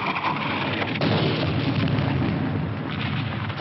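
Wartime artillery fire in a battle scene, a dense continuous roar of booming blasts and rumble, loud and close, with no speech.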